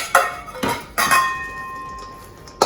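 Sliced raw beets and thinly sliced red onion tossed in a bowl, giving four sharp clinks and clatters with quiet pauses between them, close and fairly loud, with no talking.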